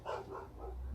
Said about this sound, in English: it's hard to concentrate with the dogs barking